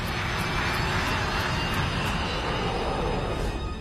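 Airliner jet engines roar steadily and loudly at high thrust as the plane accelerates down the runway on its takeoff roll, a dense continuous rumble with hiss.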